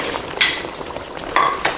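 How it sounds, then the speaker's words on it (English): Plate, fork and knife handled in a kitchen beside smothered cubed steak, giving a few close clinks and scrapes of cutlery on dishware amid low background clatter. "Plate, fork, knife, let's do this."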